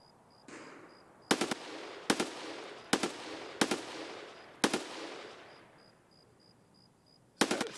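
Gunfire in the Escape from Tarkov game: sharp single shots spaced irregularly over a steady ambient wash, fairly near and loud, with a faint high electronic beeping in the background.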